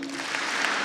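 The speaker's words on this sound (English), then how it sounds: "Can I get 2 claps in a woo?" A graduation audience claps and cheers steadily throughout, a broad, even wash of applause with scattered voices; distinct double claps and a clear woo shout are not separated out.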